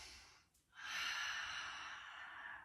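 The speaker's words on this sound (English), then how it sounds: "big full breath" One deep breath during a gentle yoga pose: a short intake followed by a long, steady, airy exhale close to the microphone, gradually softening toward the end.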